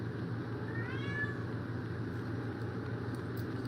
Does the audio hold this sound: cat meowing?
yes